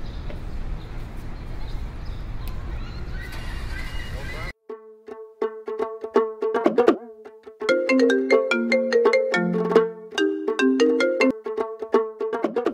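A phone ringtone plays as a call is placed to Krishna, a loud melodic tune of repeating tones that begins midway after a stretch of noisy background sound and carries on steadily to the end.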